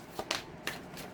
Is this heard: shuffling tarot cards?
yes